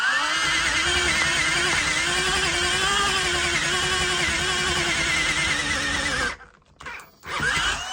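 A nearly 30-year-old battery drill with an electric clutch drives a 16mm spade bit, its motor holding a strained, wavering whine for several seconds before cutting out, followed by a couple of short bursts as it restarts.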